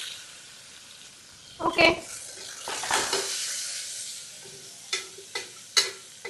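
Sliced onions and green chillies sizzle in a pan while a spoon stirs them, with scraping and clinks against the metal. A voice speaks briefly.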